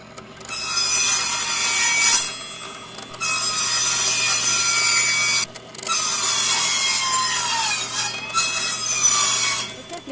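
A homemade firewood saw cuts through wood in three long bursts of loud, close, grinding rasp separated by short pauses, over a faint steady mechanical hum.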